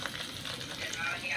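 Okra hitting hot oil with cumin in a pan, giving a steady close sizzle of frying for a brief moment.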